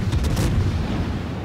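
Warship guns on the Minotaur cruiser firing in World of Warships, a deep rumbling boom with a rolling low-end tail, loud and dense for about a second and a half.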